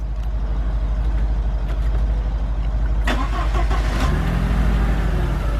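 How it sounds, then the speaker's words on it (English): A 2003 Volkswagen Passat with a rough-running, stalling fault cranks and catches, then settles into a loud, steady idle close by, with a few clunks and no voices. "I'm gonna start the vehicle up."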